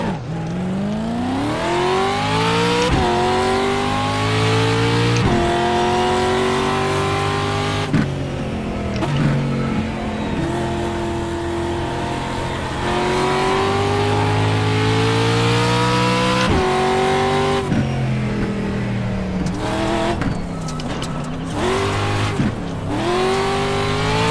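A race car engine in the iRacing sim, rookie class, revs hard and continuously, rising through sweeping pitch climbs with sharp drops at each gear shift, loud and steady throughout.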